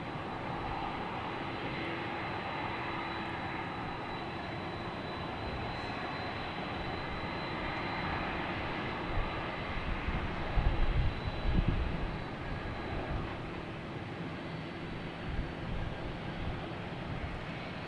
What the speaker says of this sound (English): Now we have an A220 JetBlue heading to Norfolk.